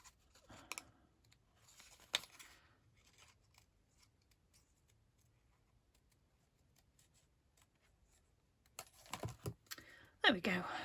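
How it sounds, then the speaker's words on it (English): A paper card is cut with scissors while it is moved around, giving a few crisp snips early on, then a quiet stretch, and then a louder run of close cutting near the end. "Trying to move the card around while I'm cutting."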